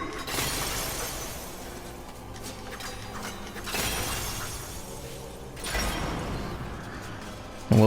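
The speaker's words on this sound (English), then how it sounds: "Smash some glass." Glass panes smash repeatedly in the video game Medievil, three loud bright shattering crashes spaced a couple of seconds apart over a continuous dense noisy game background.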